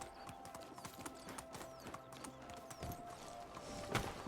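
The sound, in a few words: donkey hooves clip-clopping in the video game Medieval Dynasty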